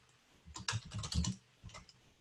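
Computer keyboard typing comes in a quick flurry of close, crisp key clicks, pausing briefly before a few more taps.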